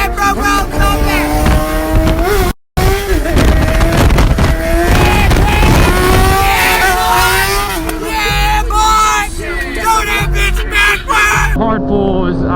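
A 2018 Yamaha R6 sport bike screaming through hard pulls, the engine pitch climbing and dropping through gear changes over heavy wind rush, with a brief dropout midway.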